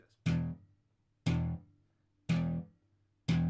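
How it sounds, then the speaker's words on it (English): Four separate slapped bass guitar notes, each one a sharp percussive attack with the string snapping onto the metal frets, then a quick decay into silence. They fall at a steady rhythm of about one per second, close and alone. "I want to make sure that the string hits down onto the frets to get that metal on metal sound like this"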